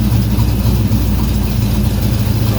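A car engine idles steadily after an ignition timing adjustment, a loud, close, continuous low rumble with no talking.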